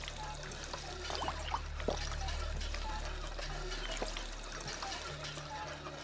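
Water trickles and pours steadily at a water-making station in the Fallout 4 game with the Sim Settlements 2 mod, a continuous low liquid flow over a background hum.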